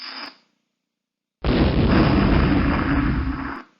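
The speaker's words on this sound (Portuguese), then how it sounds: "Vocês viram que houve uma explosão." A spark ignites a mixture of hydrogen and oxygen gas in a classroom chemistry demonstration, setting off one loud, sudden explosive boom that roars on for about two seconds after a brief faint noise and a short silence.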